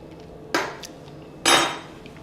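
A metal spoon against a pot of seafood dressing: two distinct close clinks, the second louder and ringing a little longer, over quiet room tone.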